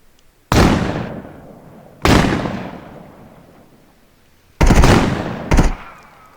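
Full-auto gunfire in the VR shooter Contractors Showdown ExfilZone: three loud, sharp bursts, each with a long decaying echo, the last one doubled, with no talk over them.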